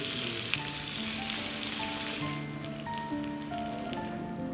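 Marinated fish fillets fry in hot oil with curry leaves, giving a constant close, crackling sizzle while soft sustained music tones play underneath.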